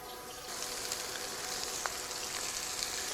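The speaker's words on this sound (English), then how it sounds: "flip these over into our pan that's nice and hot" Meat sizzles steadily in a hot pan after being flipped in, a close, continuous crackling fry with small pops scattered throughout and no pause.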